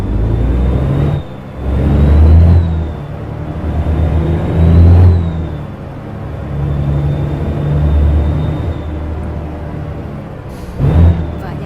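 A Volvo truck cruising in Euro Truck Simulator 2 on Scottish roads hums with a steady low engine drone that swells and eases gently, with a faint high whine running above it; no talking.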